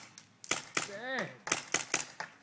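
Gunfire at a skeet shooting range: a series of sharp cracks in uneven rhythm, moderately close, with a brief voice heard between the shots.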